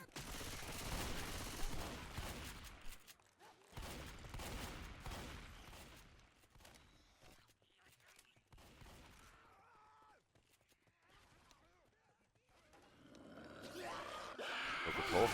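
Rapid bursts of gunfire in a competitive video game match at a World Cup semi-final, dense and loud early on, thinning to sparse shots mid-way, then swelling again near the end.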